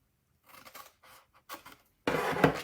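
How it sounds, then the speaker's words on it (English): Scissors cut paper along a score line while a treat box is being made, a few short close snips followed by a louder, longer slicing cut at the end. "cut up the vertical score line to the first horizontal"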